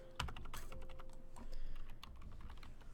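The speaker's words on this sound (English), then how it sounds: "So I'm going to type in adjust" Typing on a computer keyboard at a desk, a quick run of close, crisp key clicks in an uneven rhythm, steady and moderately quiet with no talking.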